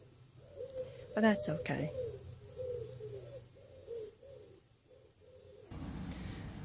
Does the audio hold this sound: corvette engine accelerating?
no